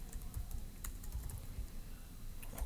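Steady, close clicking of a computer keyboard, with irregular keystrokes tapping out in quick succession over a faint background hiss, no voices.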